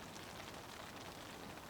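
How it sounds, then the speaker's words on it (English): Wet snow pattering on a plastic wrap survival shelter, a faint, dense, steady hiss of countless tiny taps close overhead, with no voices. "wet snow. I don't think it's rain, but not quite snow."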